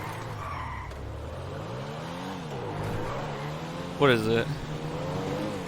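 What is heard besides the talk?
Comet sports car driving and skidding in video game GTA 5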